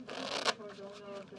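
Playing cards are shuffled in a quick riffle, a dense papery flutter lasting about a second with a sharp snap near the middle, close and moderately loud, with faint talk underneath.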